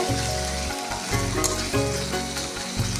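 Sliced onion frying lightly in oil for a Bengali fish curry: a steady, close sizzle with occasional stirring over a low, humming background, and no talking.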